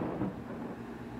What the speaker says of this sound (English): I'm gonna let the storm pass